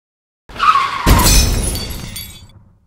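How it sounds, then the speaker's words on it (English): Toy cars in a stop-motion pileup: a squealing skid is followed by a sudden loud crunching crash with scattered clattering debris that fades out over a second or so. "Oh no, they crashed."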